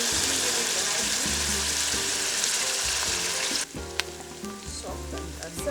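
Green beans for Ethiopian fasolia fry in a pan with a steady, dense sizzle, close and continuous, dipping briefly near the end as they are stirred, with light utensil clinks.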